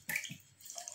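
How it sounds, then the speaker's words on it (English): Mauby drink strained and poured into a bottle: a brief close splash and trickle of liquid, soft and light, with a quieter dribble continuing afterward. "So I'm just gonna strain it into the bottle."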